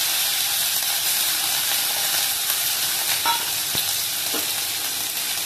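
Mustard seeds fry in two spoons of sesame oil in a kadai, giving a steady hot sizzle with scattered sharp pops and crackles, close and alone without talk.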